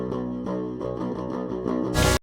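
An unprocessed direct-input electric guitar track from a Left to Suffer or Kingdom of Giants raw multitrack plays a quick, rhythmic run of picked notes, dry and close, ending in a short burst of noise.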